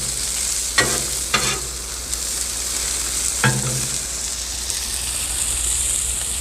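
Sous vide steaks sizzle with butter on a Blackstone griddle outdoors, a steady dense frying hiss throughout, broken by a few short tonal clanks, with no talk.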